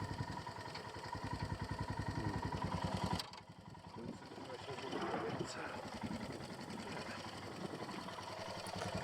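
A Royal Enfield Himalayan motorcycle rides along an old coach road in the Lake District, Cumbria, its single-cylinder engine thrumming in a fast, even pulse, briefly dropping then resuming steadily with some wind and clatter.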